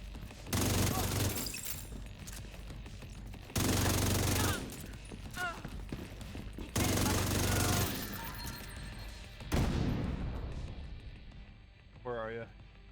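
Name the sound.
gunfire in The Division video game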